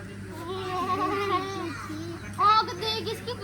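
Goat bleats near a rural village home in Uttar Pradesh, several wavering calls at moderate level with a higher, sharper cry near the end, children and adults talking softly around them.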